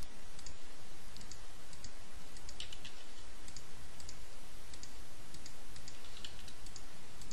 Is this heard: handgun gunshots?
no